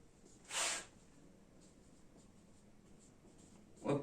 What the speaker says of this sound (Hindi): इसके लिए भी यहां पर मैं लिख देता हूं